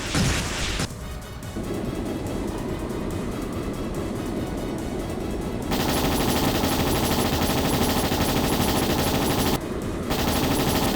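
An airship's chain gun fires in a video game, a loud, sustained mechanical rattle running almost without pause, with abrupt shifts in intensity and brief breaks.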